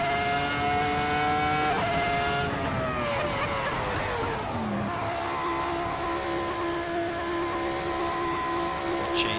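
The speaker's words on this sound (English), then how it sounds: "Let's dive into the pits here because I'm sick of bouncing off the rev limiter" A Ferrari F2004 Formula One engine screams in a racing video game, holding high revs and stuttering against the rev limiter before the pitch drops and settles into a steady lower drone.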